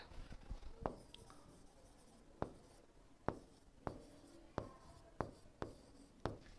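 Pen or chalk strikes out an answer for a Class 10 English grammar lesson, a series of sharp, irregular taps and short strokes, close and faint against a quiet room with no talk.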